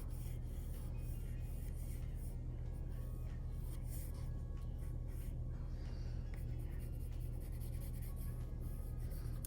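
Markers scratch and rub across paper while a figure is drawn, with continuous faint scribbling strokes over a steady low hum.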